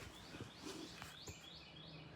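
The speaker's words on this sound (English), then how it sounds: "Hear the birds. It's nice." Birds chirp outside in Kauai, with a few faint, quick tweets and whistles scattered over a quiet background.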